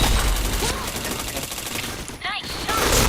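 Gunfire in the shooter Point Blank, dense and loud, with bursts running through most of the moment and a brief lull near the end.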